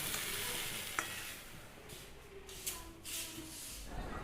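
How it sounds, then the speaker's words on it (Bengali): Egg curry with small potatoes cooks in a pan, giving a soft, steady sizzle with occasional stirring scrapes and clinks, faint and close, with no talking. "আরে আজকে না ছোটো ছোটো আলু, সেই আলুর দমের আলু দিয়েই ডিমটা রান্না করছি।"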